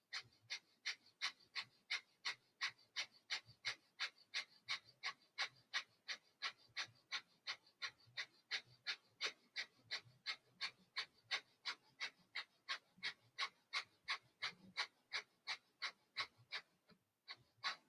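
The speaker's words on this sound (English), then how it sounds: "you begin a fire breath" Rapid, forceful yogic fire breath, made of regular sharp nasal exhalations at about two per second that continue evenly and close by for the whole stretch, with a brief break near the end.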